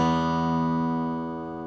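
A single sustained low E note on a bass guitar rings out and slowly fades, steady and clear with no other sounds.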